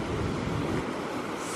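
Rough, stirred-up ocean waves on the Gulf Coast, a steady broad wash of surf mixed with wind rumbling against the microphone, loud and continuous with no voices.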